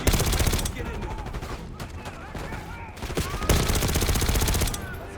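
Gunfire in the Call of Duty Black Ops 6 campaign, with rapid bursts of automatic fire and heavy sustained volleys, dense and loud, broken by short pauses and mixed with battle noise.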